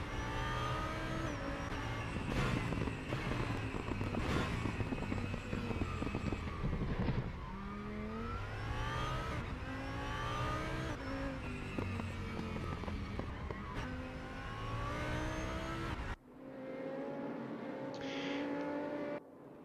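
An Audi R8 race car in a racing video game heads out on a warm-up lap at the Nürburgring. The engine revs up and down repeatedly, with rising gear-change whines and loud, close pulls, then settles into a quieter steady drone near the end.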